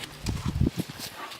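Horse hooves clop unevenly on the ground as the horse is pulled into a one-rein stop and turns a couple of circles, a run of close thuds that slows and fades toward the end.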